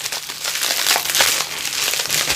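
AliExpress parcel box being opened by hand, close crinkling and crumpling of packaging with irregular rustling bursts throughout, no talking.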